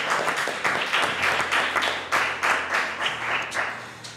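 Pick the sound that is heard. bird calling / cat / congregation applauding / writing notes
congregation applauding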